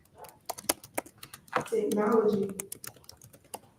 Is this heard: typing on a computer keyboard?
yes